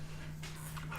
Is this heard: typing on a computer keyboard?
no